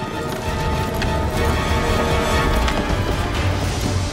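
Pharaoh's horses and chariots thunder past in pursuit, a dense, continuous rumble of galloping hooves and rolling wheels, loud and close with no pause.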